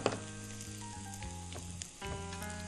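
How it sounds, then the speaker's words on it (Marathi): Chopped onion goes into hot oil and fries with a steady, close sizzle, heard under a bed of sustained background music tones, with no voices. "यामध्ये आपण जो कांदा घेतलाय चिरून तो टाकून घेऊया"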